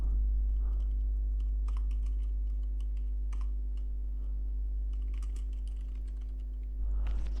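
Soft, scattered clicks of typing on a computer keyboard enter text into a PowerPoint shape. The keystrokes sit faintly beneath a loud, constant low hum.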